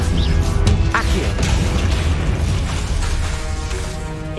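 Confringo spell blasts in the Hogwarts Legacy game, a loud, dense run of booming explosions and crashing impacts that roll continuously, close and heavy, with no pause between them.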